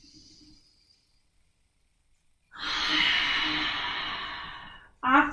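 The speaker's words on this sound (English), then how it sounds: "Take a nice deep full breath in" A deep, full breath during a yoga session, drawn in then released in a long, steady exhale lasting a couple of seconds, followed by the start of another breath; close and clear with quiet pauses around it.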